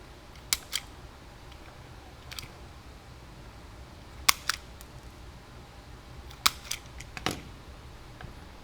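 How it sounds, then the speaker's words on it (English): Wire stripper pulling insulation off wire during a 2007-or-later Jeep Wrangler subwoofer enclosure install: a few sharp, close snips and clicks spread apart over quiet background hiss. "Strip a little bit of the wire back."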